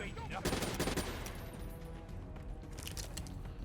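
Rapid bursts of gunfire crackle in Call of Duty: Black Ops III on Xbox One as the player takes heavy fire, with dense overlapping shots strongest in the first second and continuing more sparsely over a steady game backdrop.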